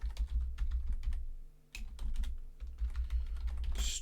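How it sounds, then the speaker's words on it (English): Quick bursts of typing on a computer keyboard, clattering keystrokes close by with a short pause midway before the tapping resumes. "my typing is terrible today"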